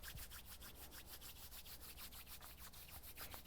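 Hands rub briskly together in a steady back-and-forth rhythm, a close, soft, swishing friction repeated many times without pause in a quiet room.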